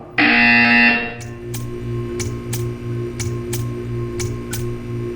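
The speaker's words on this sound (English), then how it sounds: "You will hear a buzzer." A loud electronic buzzer from the video game Portal 2 sounds once for about a second, followed by a series of sharp, evenly spaced ticks over a low background hum.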